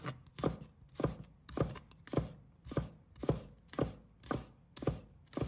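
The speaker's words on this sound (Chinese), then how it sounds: "葱白也切成末" A kitchen knife minces scallion whites on a cutting board, about ten steady, evenly spaced chops at roughly two per second, close and fairly soft, with no talking.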